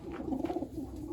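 A Birmingham roller pigeon cooing up close: a few soft, low, throaty coos in a gentle rolling rhythm, fairly faint and on their own.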